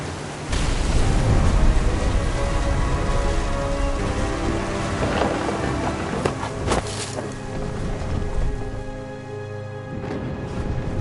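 A thunderstorm in the game What Remains of Edith Finch, with steady heavy rain hissing throughout and a few low thunder rumbles rolling underneath, fairly loud and close.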